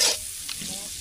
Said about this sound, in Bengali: এই মাছগুলা দিতেছি যে তেলের মধ্যে সবগুলাই